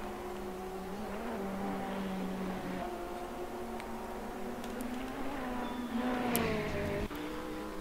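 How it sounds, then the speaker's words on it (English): A Ferrari GT3 race car engine in a racing video game at Monza whines and shifts pitch through a chicane, dropping on a gearshift then climbing again as it revs, heard steadily and fairly faint. "Really pushing the car to its limits to try and keep up with those Lamborghinis"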